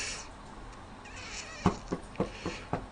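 A cat meows a few times in quick succession, short moderate calls after a longer, fainter whine, heard indoors over low background noise.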